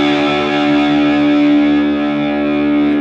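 A distorted electric guitar with its low E string tuned down to drop D, a single low note ringing out loud and sustained with effects, no talking.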